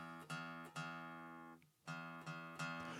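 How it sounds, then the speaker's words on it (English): A guitar's thick low E string rings out in repeated plucked notes, each sustaining with rich harmonics before the next pluck, with a brief gap in the middle; close and clear, no talking. "first note is the thick one here, and that's the E string"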